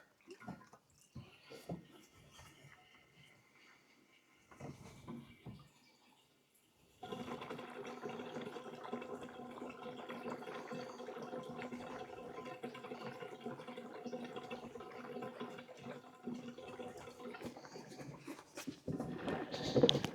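Fuel pours into the tank of a 1967 Mercury Monterey, a steady liquid gurgle and splash running continuously after a few scattered clunks, fairly quiet, with no talk.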